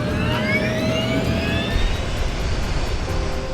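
Cactus 1549, a jet airliner, takes off from runway 4: a loud, steady engine roar with rising whining tones that runs unbroken throughout, with no voices.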